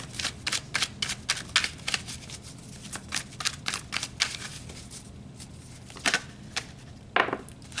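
Tarot cards shuffled and pulled during a reading, a steady run of crisp riffling snaps and flicks close up, ending in a few separate card slaps, with no talking.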